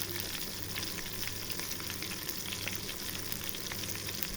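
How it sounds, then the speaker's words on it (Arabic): Bassaria fish fry in oil in a small pan, giving a dense, steady crackling sizzle with scattered sharp pops throughout, close and fairly loud. "انا عامله طاسه صغيره اللي بقلي فيها"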